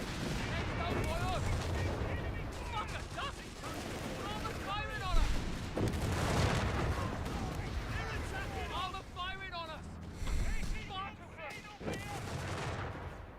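Heavy machine gun bursts rattle in Company of Heroes 3 amid dense battlefield noise and other gunfire, with a voice talking over the fighting.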